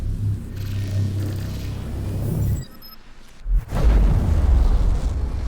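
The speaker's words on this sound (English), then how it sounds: "Let's go to Array and test out some of these little missile babies" In the space game Star Citizen, missiles launch and burst in deep rumbling explosions, with a roaring blast, a short lull, then a heavy boom that swells into a long loud roar.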